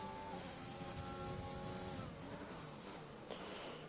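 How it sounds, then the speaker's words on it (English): A race car engine in a PS4 racing game, on the Hungary circuit, revs hard and steadily in the pit lane while stuck in second gear, loud and continuous with a faint rising whine. "it seemed to be revving out gear 2 in the pit lane"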